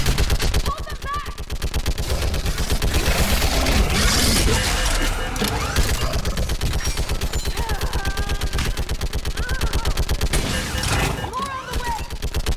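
Sustained automatic gunfire and rapid shots fill a Mass Effect 3 battle on a bridge, loud and continuous throughout with brief bursts of shouted orders mixed in.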